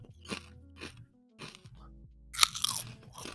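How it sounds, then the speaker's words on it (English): Loud, close crunching of jalapeno chips being bitten and chewed, several sharp crunches in irregular bursts with brief pauses between bites, no talk. "I'm so sorry about the crunching"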